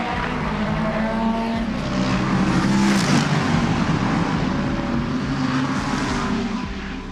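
LMGT3 race cars, a VistaJet Ferrari and a McLaren, in qualifying at Spa, engines droning steadily and swelling as they pass by, with no one talking.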